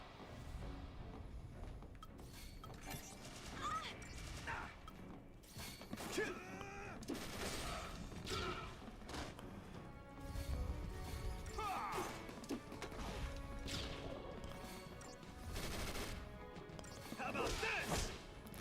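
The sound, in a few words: grenade explosions blowing up enemies in the Final Fantasy 13 video game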